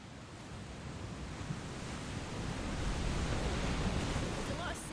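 Ocean waves wash steadily in Final Fantasy 16, a broad rushing surf that swells slightly louder toward the end, with no clear voice over it.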